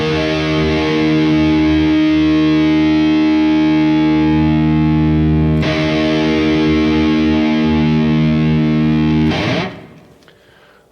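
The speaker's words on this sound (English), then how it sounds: "here is my low E for your tuning reference." A distorted electric guitar rings out a single sustained low E string note tuned down a half step to E-flat, thick and loud, held for several seconds before a re-pick and a final fade as the note is cut.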